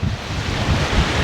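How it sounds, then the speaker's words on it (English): Ocean surf and a steady breeze on a Bahamas beach at CocoCay, a continuous low rushing wash with wind buffeting the microphone, no voices. "the breeze, the sounds of the ocean"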